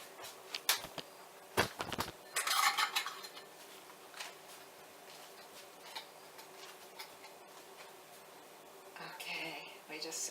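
Lids are set on and twisted onto glass jars of beans, giving sharp clinks and scraping taps in irregular bursts, close up, with a person talking quietly in between.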